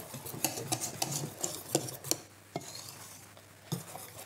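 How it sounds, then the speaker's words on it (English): Pancake batter of egg and milk being mixed in a bowl, with a utensil scraping and tapping against the bowl in quick irregular clicks, then slowing to occasional knocks. "No, you wanna let it mix. So just let it mix."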